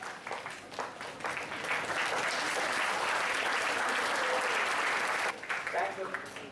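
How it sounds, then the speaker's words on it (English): Standing ovation for scientists at a formal event, sustained loud applause from a large crowd that swells and holds steady for several seconds before tapering off. "let's heartily congratulate our proud scientists, and let's give them the standing ovation"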